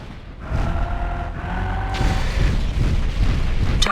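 Target explosion in the video game MechWarrior 4 Vengeance: a sustained, loud rumbling boom with rolling low-end debris noise and a sharper burst near the end, layered over steady mechanical game ambience.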